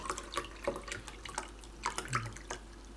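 Water splashes and drips into an MRE ration pouch in short, irregular bursts, fairly quiet and close, with small trickles and droplets spread through the moment.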